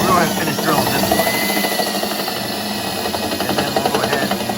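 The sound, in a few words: power drill drilling a hole on a Jeep Wrangler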